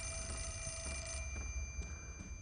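An old-style telephone rings in the horror game Fatal Frame: Mask of the Lunar Eclipse, a short burst of rattling bell rings over a steady low hum and faint high whine.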